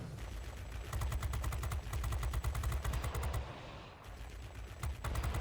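Aircraft machine guns in the World of Warplanes video game, firing rapid sustained bursts with a steady clattering rhythm, loud and continuous with a brief pause midway.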